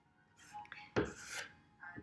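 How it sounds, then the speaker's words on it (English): Excess wood filler being scraped off a piece of furniture, a few short rasping scrapes close up with one louder stroke in the middle. "you kind of want to scrape off all the extra stuff"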